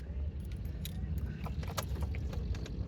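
Car keys jangle in a quick series of light metallic clinks close by inside a car, with a faint hum of the vehicle underneath.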